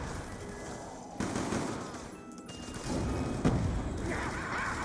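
Type 25 rifle fire in Black Ops 2 Zombies comes as rapid bursts against a busy game background, moderately loud, with louder stretches of shooting toward the second half.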